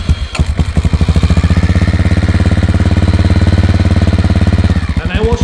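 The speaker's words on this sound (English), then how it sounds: "I turned the key, I pushed that start button, and the bike, come right like immediately" A Honda XR650L motorcycle with a rejetted carburetor, smog delete and new exhaust fires up and settles into a loud, steady, close thumping idle with a rapid even pulse, revving briefly near the end.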